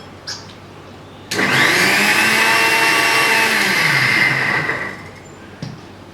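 A kitchen mixer grinder whirs loudly for about three and a half seconds while blending a chutney for sprout salad, starting abruptly, holding a steady high whine, then winding down with a short clack after.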